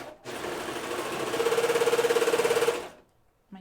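A home sewing machine stitches a dress in one steady run, its rapid needle chatter rising to a fast even rhythm before stopping abruptly, loud and close with no talk.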